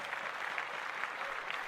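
Steady applause from a crowd, a dense even patter of many hands clapping throughout, moderately loud and unbroken.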